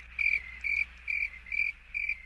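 Crickets chirp in regular high-pitched pulses, five evenly spaced trills at a steady rhythm, fairly loud and close against a quiet background, with no talking.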